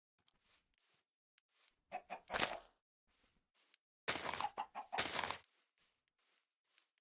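Blocky chickens clucking in Minecraft in a tiny forest meadow, a run of short game clucks with two louder bursts near the middle, set against quiet ambience.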